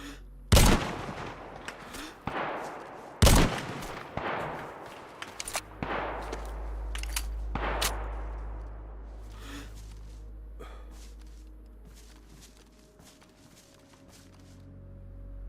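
Gunfire in the video game DayZ: several sharp shots, two loud close cracks followed by a scattered series of fainter shots, with a low rumbling background and no talk.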